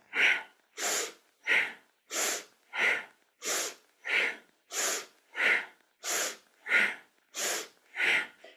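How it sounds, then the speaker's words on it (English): Forceful rhythmic breathing from a kundalini yoga kriya, about thirteen sharp, evenly spaced breaths over eight seconds, close and loud, each a strong nasal rush with no talk between. "Powerful breath."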